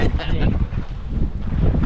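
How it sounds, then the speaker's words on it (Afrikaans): Wind buffets a microphone in a moving car on a West Coast highway drive, a steady low rumbling roar running throughout, with no clear speech. "Maar die wind is bietjie nikkerig."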